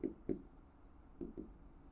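Pen or chalk strokes while writing out a substitution step in a linear equations problem, a few brief faint scratches spaced apart, soft and close.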